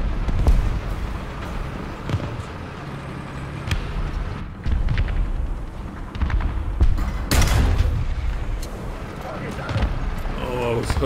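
A Hungarian 43M Turán III medium tank fires its cannon in War Thunder, with a few sharp, booming shots spaced several seconds apart over rumbling battle noise and frequent talking.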